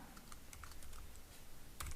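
A computer keyboard clacks in a steady run of quick, light keystrokes, close up and without any talk.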